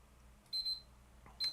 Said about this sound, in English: That's my timer telling me, hey, man, stay on track.